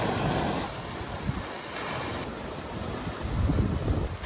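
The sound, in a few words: rough sea waves foaming in the morning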